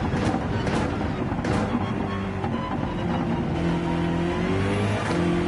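A Dodge Viper's engine roars steadily in Gran Turismo 7 during a hot lap, a continuous loud drone with shifting pitch as the car accelerates, and no voices.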